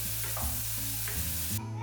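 Spices and onion puree sautéing in a pan, a continuous sizzle and frying hiss broken by scraping stirring strokes, close and steady with no talk.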